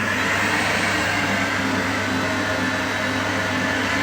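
An electric stand mixer whirs steadily as it folds Jaffa cake batter of flour, ground almonds and baking powder, a loud continuous motor drone with no talk over it.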